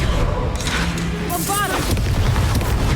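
A Confringo fire spell from Hogwarts Legacy bursts in a loud booming blast, with crackling fiery noise and voices calling out over dense game combat sound.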